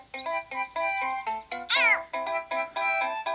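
Game death sound effect in the iPhone game Bounce On: a rapid string of loud, close cartoon meows, about a dozen short tonal calls with one longer rising-falling yowl in the middle, no talking.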